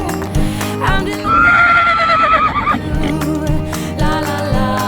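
A horse gives a loud, close whinny lasting about a second and a half, sounding over a background of music with a beat.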